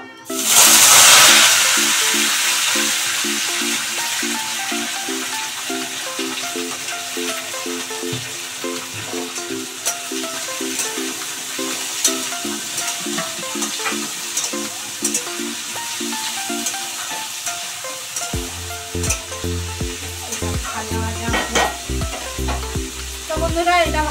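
Chopped carrot, beans, capsicum and peas fry in a pan for fried rice, giving a steady close sizzle with scraping stirs throughout, under background music.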